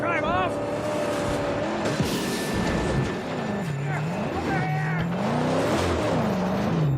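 Vehicles roar and whine in the Mad Max video game, engines revving and swooping in pitch with tire squeals and thudding impacts from ramming, while someone talks over the action.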